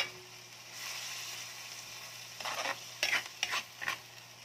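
Chicken pastil sautés in a pan at home, a soft steady sizzle with a few louder scraping stirs near the end, fairly quiet and without voices.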